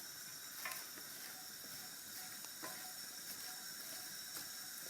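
Onions sizzle in a pan over a freshly lit burner while liver and onions cook, a faint steady hiss broken by light crackles and a few soft taps, with no talking.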